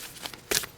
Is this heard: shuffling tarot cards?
yes